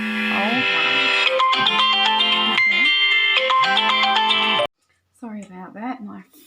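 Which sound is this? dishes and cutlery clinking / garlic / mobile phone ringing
mobile phone ringing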